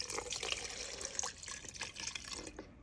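Alcohol trickles and splashes into a measuring cup for a beginner resin garnet project, a close, continuous thin pour with a few drips.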